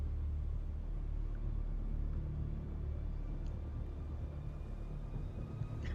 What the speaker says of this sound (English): A large sandstorm is approaching.